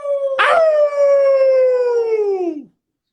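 A person imitates a wolf howl: one long, loud, sustained voiced howl, rich in harmonics, starting with a brief noisy burst and sliding gradually downward in pitch before trailing off.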